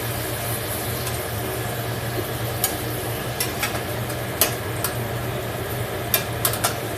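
Food sizzling in a hot pan on a stove, a steady frying hiss under a low hum, broken by several sharp clicks and clinks of a utensil against the pan as pieces are flipped.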